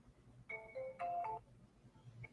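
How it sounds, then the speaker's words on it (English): A phone rings with a short electronic melodic ringtone, a brief run of tones that is moderately faint against a quiet room. "We got the phone ring."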